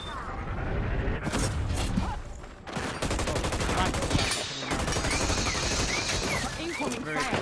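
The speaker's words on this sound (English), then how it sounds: "Incoming fire" Continuous video-game gunfire, rapid automatic bursts and booms layered with mechanical clatter, loud and sustained throughout, with a voice talking over the action.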